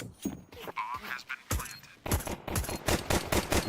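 Counter-Strike match gunfire through smoke, rapid repeated shots in quick bursts, fairly loud, mixed with game effects and some background commentary.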